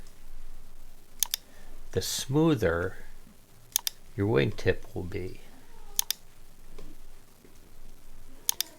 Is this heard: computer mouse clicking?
yes